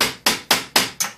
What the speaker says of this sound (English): maybe take a small hammer